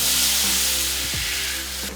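Half a stick of butter sizzles and crackles steadily in a hot pan, a loud continuous frying hiss close by with no talking.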